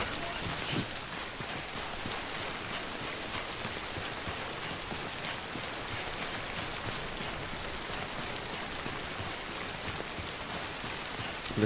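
Steady heavy rain pours down in a stormy outdoor scene of the video game Death Stranding, a dense constant patter of drops on surfaces lasting throughout with no speech.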